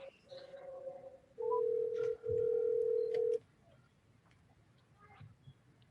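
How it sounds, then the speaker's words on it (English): A telephone places a call from a city council meeting in Baldwin Park: two long, steady electronic tones, split by a short gap, over faint room noise, with a few soft clicks around them. "Let me go ahead and dial him now"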